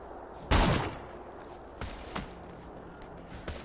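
Gunfire in the Borderlands 2 video game: one loud, sharp shot rings out, then a few lighter cracks follow at irregular intervals over a low background hum.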